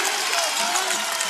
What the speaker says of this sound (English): Here comes the crowd